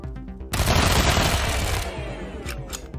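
Dense, sustained burst of automatic gunfire in the video game Wasteland 3, loud and continuous for most of the moment, tailing into a few sharp separate shots.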